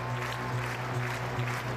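A college football stadium crowd at Georgia Southern versus NC State cheers and applauds in a faint, steady roar, heard distantly under a broadcast-like hum.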